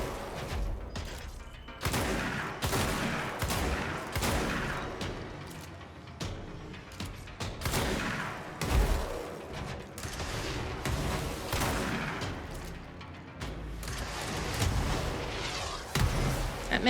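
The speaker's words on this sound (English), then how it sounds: "That man had a rocket launcher. Why have you all got rocket launchers?" Gunfire in the video game Control sounds as loud repeated bursts and booming blasts, dense and uneven with several sharp heavy hits, close and without talk.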